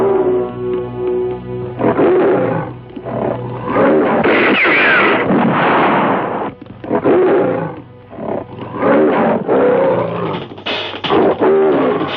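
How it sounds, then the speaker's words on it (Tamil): A tiger roars again and again, loud and close. The deep, rasping roars come in long bursts separated by short pauses. "வெளியே ஒரு புலி வந்து அட்டகாசம்"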